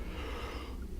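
A single breathy yawn, drawn out and fairly close, with no other sounds around it.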